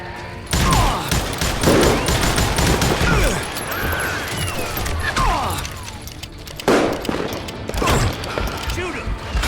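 Rapid bursts of gunfire crack back and forth in a Call of Juarez: Gunslinger shootout, dense and loud with short pauses between volleys. Voices shout over the shots.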